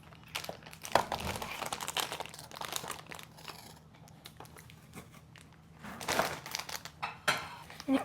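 Someone unwrapping Popmart blind box packaging: irregular crinkling and crumpling of wrapping with sharper tearing bursts, close up, with some background voice.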